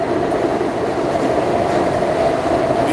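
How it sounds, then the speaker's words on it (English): A loud train roaring through a tunnel, a dense continuous rumble with rattling wheel noise, close and steady for the whole stretch, with no voices. "This train is way louder,"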